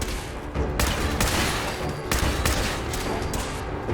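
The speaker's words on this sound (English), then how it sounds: "Где это двойной выстрел?" Gunfire in Fallout 4 sounds as dense, loud bursts of shots in several broad clusters over about four seconds, with no talk.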